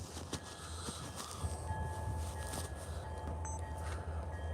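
A freight train rolls through the Port Huron Y at night, its low steady rumble and rail noise continuous and moderately distant, with faint clicks and a thin high tone over the roar.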